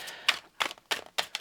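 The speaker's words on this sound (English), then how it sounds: "let's give them a little bit of a shuffle" Tarot cards being shuffled by hand, heard as four or five quick, crisp papery bursts spaced about a third of a second apart, close and fairly quiet, with no voices.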